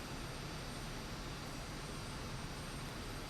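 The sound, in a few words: Aermacchi MB-339 jet engine, Microsoft Flight Simulator 2024 video game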